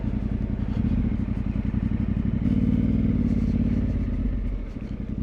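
Off-road motorcycles ride past on a forest trail, their engines burbling loudly and unevenly with clattering, throttle blips and a swelling peak as the bikes pass close, then tailing off slightly.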